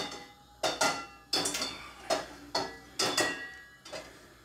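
An old, worn wok being cleaned, giving a series of about eight sharp metallic clanks and scrapes at a fairly even rhythm, each knock ringing briefly before the next.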